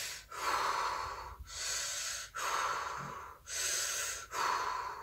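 A voice imitates a dentist's heavy breathing: five long, loud, hoarse breaths in a steady rhythm, each one split from the next by a short pause, close to the mic.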